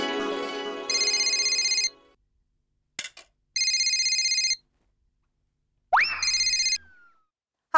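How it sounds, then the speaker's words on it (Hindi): Phone ringing on an outgoing call: three bursts of electronic ringback tone, each about a second long, separated by silence, with a brief click and a swooping tone between bursts. "बबीता जी को फोन करके खुशखबरी दे देता हूँ"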